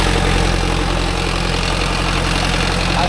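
A Mahindra Arjun Novo 605 tractor engine idles with a bent silencer, giving a loud, steady low rumble with a constant even throb and no pauses.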